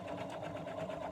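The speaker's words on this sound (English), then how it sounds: "then I zigzag the raw edges on my sewing machine" Sewing machine running fast as it zigzags along the raw edges of fabric, a steady rapid mechanical whir with quick regular needle pulses, close and continuous.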